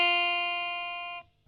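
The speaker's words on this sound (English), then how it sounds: "press this string and then hit with your right hand the same string" One clean guitar note sounds from the first string fretted at the first fret. The tone is bright and sustained, decays slightly and is damped short after just over a second, followed by faint handling noise.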